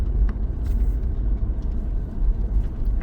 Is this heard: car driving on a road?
yes